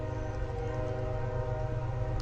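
A passing train rumbles steadily and loudly throughout, with low heavy droning and a faint horn-like tone layered on top, no voices present.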